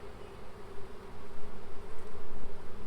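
Honey bees hum at the hive on New Year's Day, a dense, continuous close-up buzz that swells and pulses as individual bees pass near.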